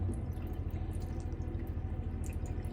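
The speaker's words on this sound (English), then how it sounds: "the hot water is coming through this tap" Hot water runs from a tap in a Mobilvetta K-Yacht 85 motorhome, a steady close splashing and dripping stream with a low rumbling undertone, continuous throughout with no talking.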